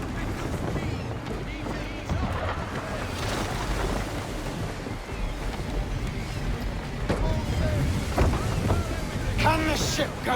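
Sailing ship under full sail in Assassin's Creed 3, a steady rush of wind and water with creaking and splashing throughout, loud and continuous, with occasional muffled voices.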